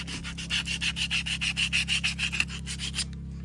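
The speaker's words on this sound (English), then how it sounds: "And I want to get your patch sanded too." Hand-sanding the patch area on an off-road tire sidewall, a run of about fifteen quick, even rasping strokes in a steady back-and-forth rhythm over a low hum, close and fairly quiet, stopping near the end.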